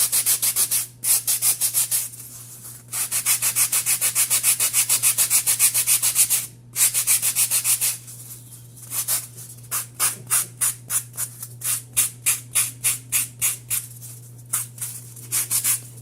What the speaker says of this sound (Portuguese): Lixa assim, ó, bem reto